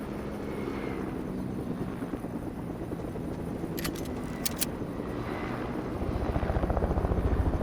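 A helicopter in the video game Fortnite, played on a Mac, thrums as a steady rotor drone amid broad ambient rumble, with a couple of brief metallic clicks and the rotor chop growing louder near the end.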